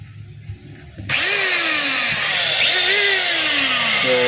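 A DeWalt D25033 rotary hammer running in drill mode switches on abruptly after a quiet moment, then holds a loud, steady motor whine with a slight pitch wobble.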